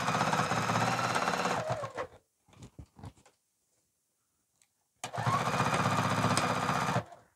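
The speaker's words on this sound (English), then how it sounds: "Your machine should be able to sew through the foam." A home sewing machine stitches through foam for a bag, sewing back and forth in two loud, steady, rapid runs separated by a quiet gap with a few faint handling clicks.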